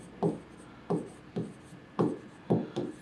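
Pen strokes scratching on paper during an accounting lesson, coming in short repeated bursts about every half second, close and fairly quiet, with no talking.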